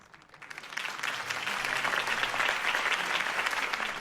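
Crowd applause swells after a mayoral campaign speech for Harvey Dent in the Batman Telltale Series video game, rising quickly from quiet into dense, sustained clapping and cheering that stays loud to the end.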